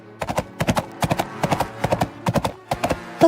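Horse hooves clip-clop in a steady, loud rhythm as a rider sits astride the horse, the quick beats grouped in bursts close by, with no talking.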